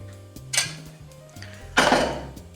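Utensils clink and scrape against a pot or bowl while velouté is mixed into carrot purée, with two louder clattering strikes amid quieter scraping and no talk.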